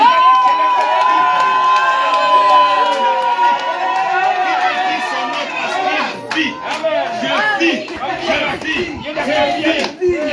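A church congregation shouts loudly in praise, a dense mass of excited voices and cheers filling the room close and sustained throughout.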